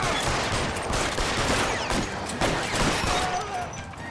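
Rapid gunfire from a shootout in the video game L.A. Noire, dense overlapping shots and bursts rattling continuously at high volume with no pauses.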